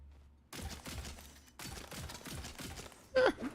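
A handgun in Tiny Tina's Wonderlands video game fires in two sustained bursts of rapid shots, each about a second long, followed by a sharp, louder pop near the end, with some background mechanical clatter.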